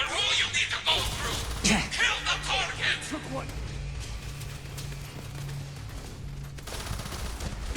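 Rapid bursts of automatic fire from a gun turret in the sci-fi game Starfield crackle loudly in the opening seconds, then give way to a lower hum and scattered clanks as combat continues.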